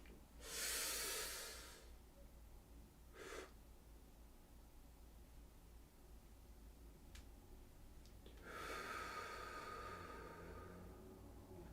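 A breathing exercise demonstrated with a long, loud close inhale through the nose, a short sharp sniff, then a long steady exhale, separated by quiet stretches.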